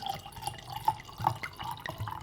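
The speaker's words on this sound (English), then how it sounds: "I thought I'd pour myself a little snifter. Some red wine." Red wine pours into a glass in a brief, soft stream of liquid with gentle glugging and dripping, close and fairly quiet.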